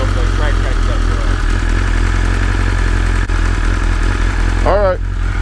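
A fully modified superbike motorcycle engine runs loud and close with a steady low rumble and buzzy mechanical clatter, and a voice talks over it throughout.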